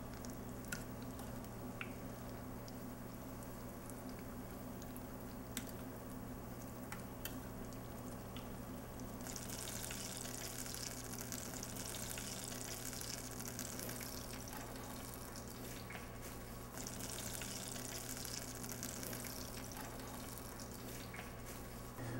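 Vegetable tempura deep frying in a vat of hot oil, a steady close crackle and hiss of bubbling oil that runs continuously, with brighter sizzling bursts partway through.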